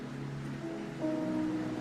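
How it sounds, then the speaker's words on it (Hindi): Rain falls in a steady, soft hiss, with a faint low hum running beneath it and no one speaking. "It's just raining."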